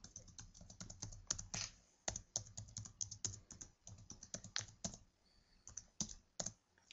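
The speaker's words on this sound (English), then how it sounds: "we're going to just go ahead and type out our alphabet" Rapid, uneven clatter of keys on a computer keyboard as the alphabet is typed out, steady bursts of close clicks with brief pauses, no voices.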